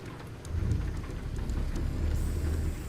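Steady rain with low rumbling thunder in the American Truck Simulator game, a continuous storm bed swelling slightly partway through, with no voices.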